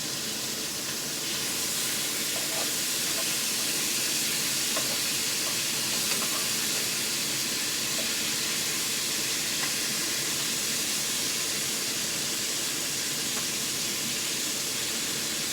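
Chicken pieces browning in a pan as they are stirred and flipped, a steady loud sizzle and frying hiss with light scraping, continuous throughout and with no talk.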